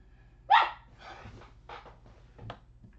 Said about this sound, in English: The dogs just like barking, especially this one over here.